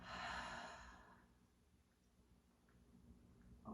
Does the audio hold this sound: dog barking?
no